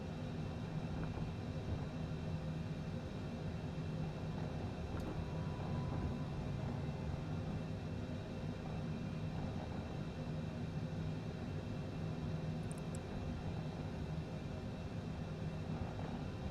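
An airplane taxis along a runway in Microsoft Flight Simulator with a steady, droning engine hum and a low rumble that stays even throughout, with no speech.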